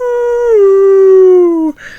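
A man imitates a wolf howl with his voice, one loud sustained tone that dips slightly in pitch and holds steady for under two seconds before cutting off abruptly.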